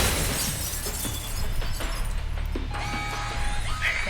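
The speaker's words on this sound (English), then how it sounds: "But you might be able to find a way to break the glass." Glass shattering in the video game Alpha Protocol, a loud crash followed by scattered tinkling fragments over a droning game background, with no voices.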